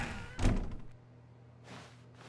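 In The Stanley Parable: Ultra Deluxe, a door shuts with one solid thunk, followed by quiet room tone and a faint soft shuffle near the end.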